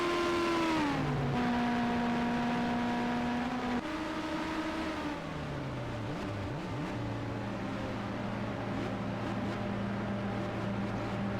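Champ Car race cars on pit lane at the Grand Prix of New York, engines rising in pitch then held at a steady limiter whine, later lower droning tones with brief revs, all moderately distant.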